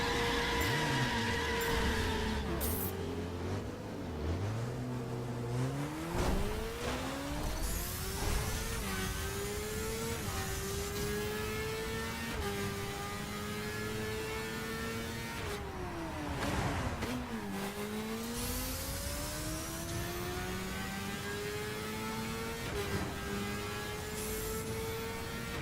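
A car in the racing game The Crew drives with a steady engine drone whose pitch rises and falls through gear shifts and revving, joined by a continuous electronic hum and whir, with no talking.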